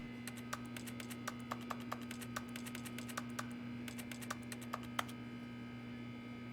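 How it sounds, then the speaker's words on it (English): Rapid, irregular keyboard clicking in the broom closet of the video game The Stanley Parable, a steady run of sharp close keystrokes over a constant low electrical hum, with a brief pause partway through. "Keyboard still click."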